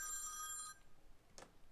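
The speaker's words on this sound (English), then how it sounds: "phone call" A telephone bell rings in one bright, buzzing burst that stops abruptly, followed by quiet room noise and a short faint rustle. No speech.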